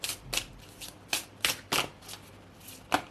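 A deck of oracle cards being shuffled by hand, giving repeated riffling swishes in an uneven rhythm, close and clear with no talking.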